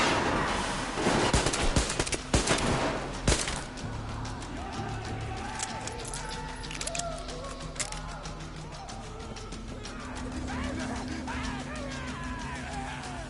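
Gunfire in the video game Metro Exodus: a burst of several sharp shots in the first few seconds, then ongoing game ambience with tonal sounds.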